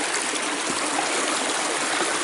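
A rocky woodland creek at Pixley Falls State Park flows steadily nearby, a loud, continuous broadband rush of water with no speech.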